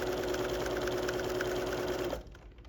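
A sewing machine runs in one steady, fast, even whir as it stitches down the side of a pencil pouch zipper, then cuts off abruptly near the end; no talking.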